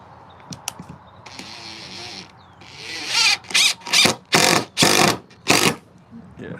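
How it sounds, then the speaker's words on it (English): Screw being backed out of a wooden coffee table leg: a mechanical creaking, ratcheting run of about five loud bursts in a row, preceded by quieter handling and scraping. "Take out this screw and put it in different."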